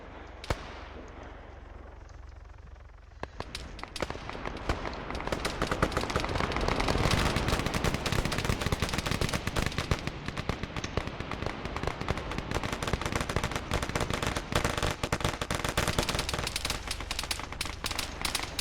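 Sustained gunfire in the military shooter Arma 3, dense rapid bursts and cracks that start after a few seconds of calmer ambience and continue without pause, loud and close.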